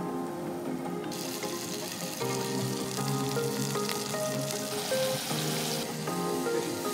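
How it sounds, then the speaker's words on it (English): Fish roe and burgers fry in a pan at an Alaskan fishing camp, a steady sizzle rising louder partway through and holding close, with clinks of cooking. "We are going to cook up this roe with our burgers."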